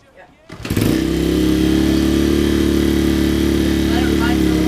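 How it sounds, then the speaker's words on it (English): A dirt bike engine cranks and catches after a brief quiet moment, then settles into a loud, steady running idle with a strong low throb close by. "all you're going to need to do is start your bike just like normal"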